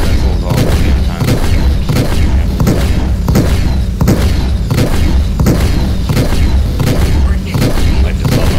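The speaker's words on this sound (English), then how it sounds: "16 missiles all at the same time." Sixteen missiles launched at once in Star Citizen, a relentless loud barrage of booming thuds and blasts repeating in rapid rhythm, close and overwhelming throughout.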